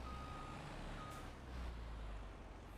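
A truck's reversing alarm in the farming game Farming Simulator 25, repeated steady beeps over a low diesel engine rumble, fairly faint and unaccompanied by speech.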